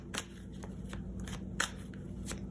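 Tarot cards being shuffled by hand in a steady run of crisp riffling bursts, close and fairly quiet, with a soft steady hum underneath.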